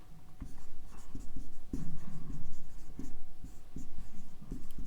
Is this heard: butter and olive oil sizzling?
no